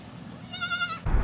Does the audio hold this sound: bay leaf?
no